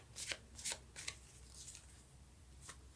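Tarot cards shuffled in a few quick riffling bursts, soft and close, with a quiet pause between flurries and no talking.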